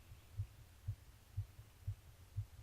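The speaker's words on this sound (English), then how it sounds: "I hear my own heartbeat!" Heartbeat in the video game Everlasting Summer, a faint, low, muffled thump repeating five times at a slow, even pace over a soft hum.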